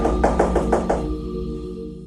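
Five firm knocks on a door in a steady quick rhythm, close and fairly loud, followed by a brief quiet room with a faint hum.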